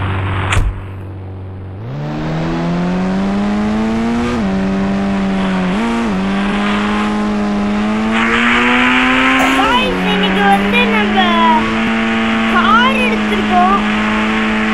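A car in GTA 5 starts up and drives, its engine revving and rising in pitch through several gear changes, loud and close, with a game soundtrack or effects layered over it.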